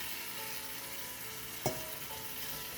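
Yogurt-marinated turkey masala fries in melted fat with a steady, even sizzle, and a single brief clatter sounds partway through.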